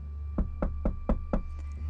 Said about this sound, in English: I knocked